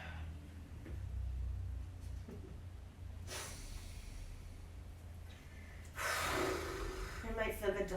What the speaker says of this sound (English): Big breath out.